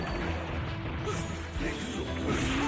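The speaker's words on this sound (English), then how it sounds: "The tidal wave coming in, crashing down on Mifune." A water-style tidal wave attack crashes down in a Mugen fighting game, a busy wash of smashing and rushing game effects with bright tonal cues layered on top, fairly loud throughout.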